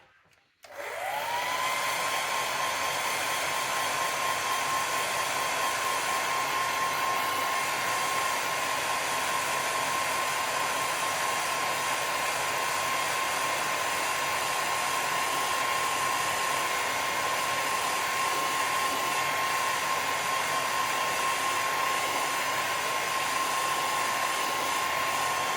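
A hair dryer switches on and runs at a steady, loud, continuous whir with a constant tone, drying a watercolour painting of a starling, uninterrupted throughout.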